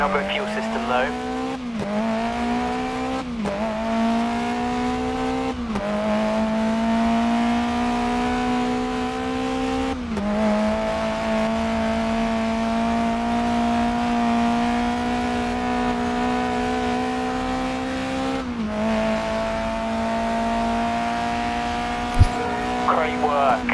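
Engines in the Grid Legends racing game drone loudly and continuously, climbing in pitch and dropping with each gear shift, with occasional tire squeal and a radio voice talking over the racing.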